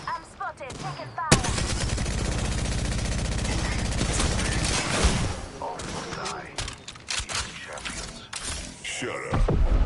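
Loud, sustained rapid automatic gunfire in the Apex Legends battle royale game, a dense burst lasting several seconds followed by scattered shots and mechanical clatter, with voices now and then.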